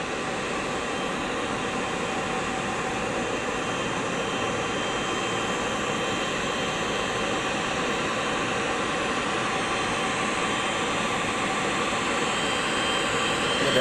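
Garuda Indonesia jet airliner PK-GIJ, arriving empty from Jeddah at BTJ airport in Aceh on a 2019 Hajj flight, gives a steady, loud broadband engine roar and whine that holds throughout without a break.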